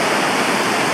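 A river rushes under a bridge on the Laugavegur Trail, a loud, steady broadband roar of flowing water, close and continuous with no pauses or voices.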